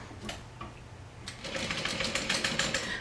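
A sewing machine stitches a quarter-inch seam on a bag handle, starting with a few slow stitches before running into a quick, steady mechanical chatter, close and clear.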